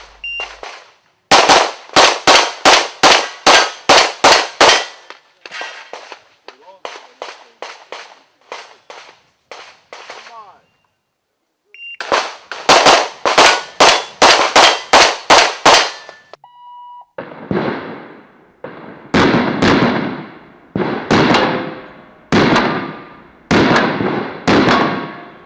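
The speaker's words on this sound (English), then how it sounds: "Stage 1 was a straightforward 9-round speed shoot, 1 paper target and 7 steel targets about 15 meters out." Rapid bursts of pistol shots ring out at an IPSC World Shoot speed stage with one paper and seven steel targets about 15 meters away, each string a fast volley of sharp cracks with metallic pings, separated by brief pauses.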